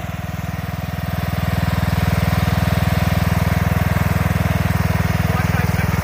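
A Craftsman riding lawn mower's small engine runs steady and loud at close range, a rapid, even pulsing drone that rises slightly in the first second and then holds.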